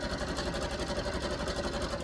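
A sewing machine runs steadily, stitching elastic onto stretchy wrestling tights as the fabric is guided through, its fast even clatter close and continuous for the whole stretch, with no talk over it.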